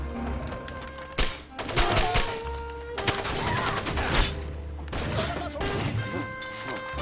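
Rapid video game gunfire rattles in dense bursts with sharp cracks and thuds, loud and continuous across several seconds, with a player's voice faintly underneath.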